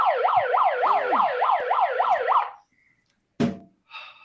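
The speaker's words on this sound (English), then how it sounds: "I feel so powerful with the siren." A siren sound effect played during a sales podcast, a loud rising-and-falling electronic wail repeated rapidly for a couple of seconds, then cut off, followed by a short sharp burst and a brief tone.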